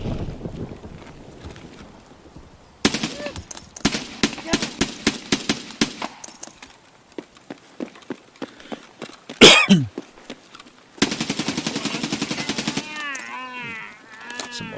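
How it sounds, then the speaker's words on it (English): Bursts of automatic fire from a SCAR rifle in the video game Tower of Fantasy, loud rapid strings of shots separated by pauses, with a brief sharp noise partway through. "Some auto fire."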